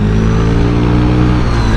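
A first-generation Honda Vario 125 scooter engine on the throttle, a loud, steady mid-pitched drone with a faint rising whine, close up and continuous throughout.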